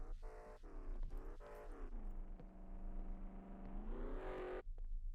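A car in the survival game SCUM drives past, its engine droning and rising in pitch, steady and moderately near for several seconds before cutting off abruptly.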